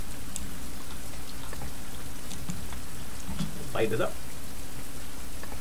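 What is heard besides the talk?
rain falling in the video game Survival Fountain of Youth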